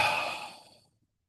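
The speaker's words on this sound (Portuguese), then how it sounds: "Faça uma respiração bem profunda agora e solta o ar pela boca" One long, deep breath let out slowly through the mouth during a guided meditation, a soft airy exhale that fades to silence after under a second.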